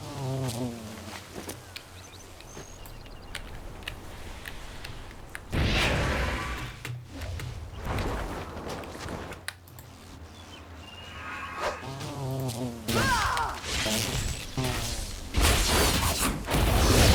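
Angry bee buzzing in World of Warcraft Dragonflight at the Ruby Lifeshrine, a continuous insect drone that swells and fades against shifting game effects and ambient sound, with louder bursts partway through and near the end.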